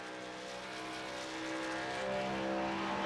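In a video game race at Las Vegas, a racing truck's engine drones steadily and slowly swells in pitch as it heads out onto the track, alone without talk.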